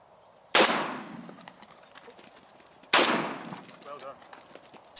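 Two loud shotgun blasts fired at decoyed pigeons outdoors, spaced a couple of seconds apart, each a sharp crack with a ringing decay, with faint field sounds between.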